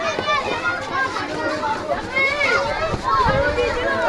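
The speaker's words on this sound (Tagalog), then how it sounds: "Sobrang ingay guys, ang dami ng mga kabataan." A loud, noisy crowd of children and youths shouts and chatters at an outdoor basketball league parade in a village, with overlapping excited voices and close talking throughout.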